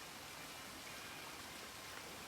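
Steady broadband splashing of a water fountain in the Fallout: New Vegas video game, a continuous soft rushing and trickling with no talk, faint and even throughout.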